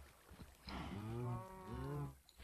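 Minecraft cow giving a single drawn-out moo, low and tonal, rising then fading over about a second and a half, quiet with no talking.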